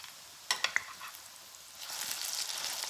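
Zucchini latkes made with almond flour and Parmesan fry in a pan: a few sharp crackles and pops at first, then a steady, louder hissing sizzle builds and continues.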